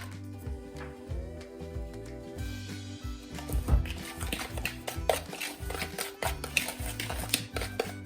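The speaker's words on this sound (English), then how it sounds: "This one has a little bit too much oil, so I'm going to add more sugar in this bowl." Sugar being added and stirred into an oil-based scrub mixture in a bowl, with repeated clinks and scraping of a utensil against the bowl, close and fairly steady, alone without talk.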